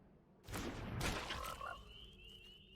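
Synthetic frog croak effect in the Magic: The Gathering video game, a loud burst of croaking and splashy noise that swells after half a second, then thins into a fading tail, with no voices.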